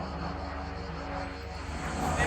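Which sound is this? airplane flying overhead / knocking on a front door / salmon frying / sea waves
airplane flying overhead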